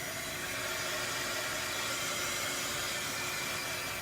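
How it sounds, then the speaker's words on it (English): A small handheld heat tool blows hot air to dry a stencil, giving a steady, close, broadband whooshing hiss that stays constant throughout. "I have a nice little handy dandy heat tool. I'm going to go ahead and get this all dry."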